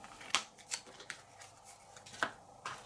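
Playing cards from It's a Wonderful World are dealt into packs of five. Each card lands with a sharp, light snap, a handful of separate taps at uneven intervals on a quiet tabletop.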